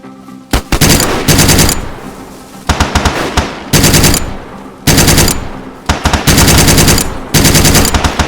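Automatic gunfire from a hard-to-control weapon in DayZ: loud, close bursts of rapid shots in repeated strings, separated by short pauses, over about eight seconds with no talk.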